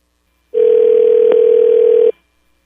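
A steady telephone dial tone sounds alone for about a second and a half, placed while calling Billy Gibbons, then cuts off cleanly.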